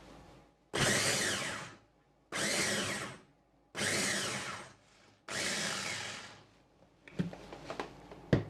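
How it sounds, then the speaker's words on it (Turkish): Onion being chopped in a food processor, four loud whirring pulses of about a second each with short pauses between, then quieter rattling and knocks as the bowl is handled. "Karnabaharlarımı rondodan geçireceğim ama önce bir adet soğanı geçiriyorum."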